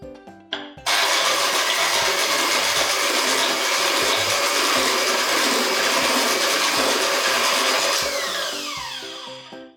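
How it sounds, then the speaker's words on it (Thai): An electric mixer beats butter for cupcakes with a loud, steady, whirring drone that starts abruptly after a brief clatter, holds for several seconds and then slowly winds down. "เอาตัวเนย ใส่ตัวไปก่อนแล้วก็ตีให้เนยมันอ่อนตัวก่อน"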